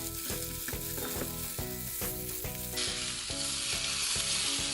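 Chicken wings fry with garlic in a pan and are getting burnt. A loud, continuous hissing sizzle runs under rhythmic background music, with no talking.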